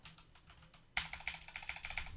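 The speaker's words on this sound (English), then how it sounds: "I am also typing with my keyboard right now that is standing behind my microphone" Fast typing on a computer keyboard set behind a microphone, a quick close run of crisp key clicks that starts suddenly after a quiet moment, with no talking.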